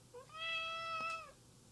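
A cat lets out a single drawn-out, wavering meow, close and fairly quiet, with a small click at the end.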